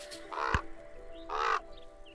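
A raven call in the Wingspan board video game, two hoarse caws about a second apart, clear and close over quiet background music.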